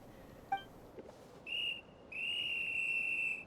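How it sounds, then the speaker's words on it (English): A whistle is blown in the Genshin Impact game, two sustained shrill blasts, a short one then a longer one, preceded by a small chime, clear and alone with no voices. "Yeah, blow that whistle."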